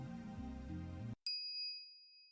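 Microwave ding in the visual novel Steins;Gate: music cuts off abruptly, then a single bright bell-like ding rings out clearly and fades over about a second.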